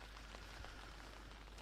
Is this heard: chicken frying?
no